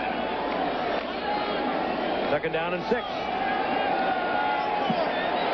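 A sellout crowd at an NFL game between the Pittsburgh Steelers and San Diego Chargers at Jack Murphy Stadium, a steady distant roar and murmur throughout, with an announcer talking over it.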